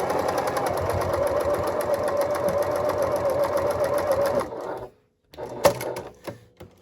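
A Janome HD9 sewing machine stitches through nine layers of denim, its motor running in a steady, loud, fast needle rhythm for about four and a half seconds before stopping, followed by a few scattered clicks and handling knocks.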